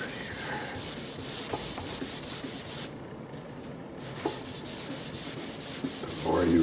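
Steady back-and-forth rubbing of a surface with rubbing compound, a continuous gritty scouring texture with brief pauses and a slight change of stroke partway through, close and even in level.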